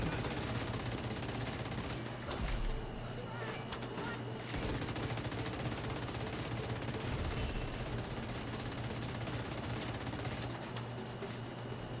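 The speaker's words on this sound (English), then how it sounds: "Just wailing on me, that turret." An enemy turret in The Division 2 firing almost nonstop: dense, rapid automatic bursts with a brief lull, loud and continuous throughout.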